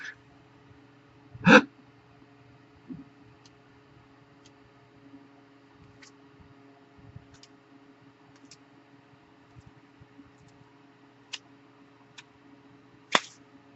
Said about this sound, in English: I am filled with one heck of a hiccup, and I am so sorry